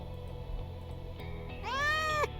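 A cat in the video game Crime Shadows lets out a single clear, drawn-out meow near the end, over a low steady game ambience.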